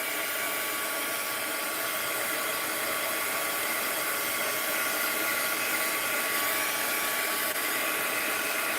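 Continuous loud blowing whir of a heat gun drying paint for an art piece, steady and close throughout with no pauses.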